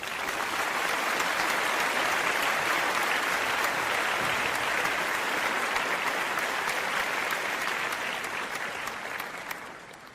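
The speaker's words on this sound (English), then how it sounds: "we are going to give a much needed" Sustained applause from a large audience honoring Prince Harry, a steady dense wash of clapping at full strength for about nine seconds before it begins to thin and fade at the end.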